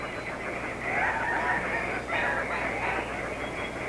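Andean cock-of-the-rock birds in the Manu rainforest of Peru give loud, harsh, honking squawks in several close bursts, with a rough, chattering quality against a humid forest background.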